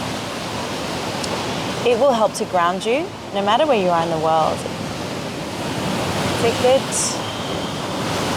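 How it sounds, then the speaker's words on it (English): Steady ocean surf washes continuously in the background at a beach during a sunrise yoga session, a soft broadband roar under a calm spoken voice. "with the ocean sound in the background of this video today"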